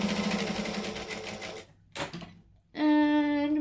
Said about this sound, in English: I'm stitching 1/8 of an inch from the edge